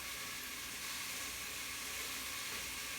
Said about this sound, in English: we have the onion in here, and we have the mushrooms. And they're starting to saute